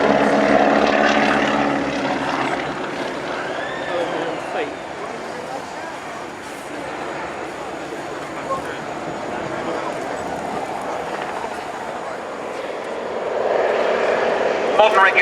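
A propeller plane flies aerobatics at the RNAS Culdrose airshow, its engine drone rising and falling in pitch as it loops and rolls, heard at a distance while a commentator talks over it.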